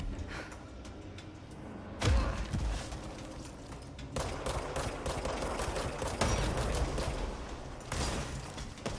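Rocket blasts and gunfire in the game Control: a sudden heavy explosion, then a dense run of rapid shots and impacts continuing to the end, loud and up close.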